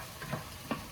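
Mushrooms sizzle softly in a pan for veggie cauliflower fried rice, with a steady frying hiss and two brief stirring scrapes, close and fairly quiet.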